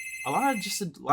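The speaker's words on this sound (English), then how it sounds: "Oh wow, that's a phone." A telephone rings with a bright, sustained electronic trill. A person talks over it the whole time, and the ring swells again at the end.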